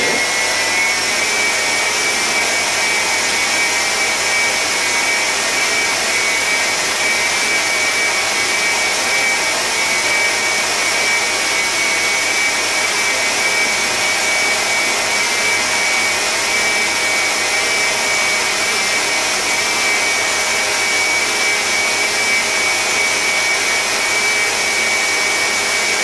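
An electric mixer runs steadily while beating spritz Christmas cookie dough after a fourth egg goes in, a loud, unbroken motor whine at close range with no talk.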